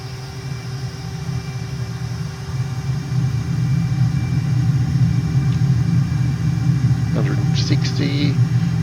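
Aircraft engine rumbling steadily during a takeoff run in Microsoft Flight Simulator, a low continuous drone that swells slightly, with brief radio-like chirps near the end.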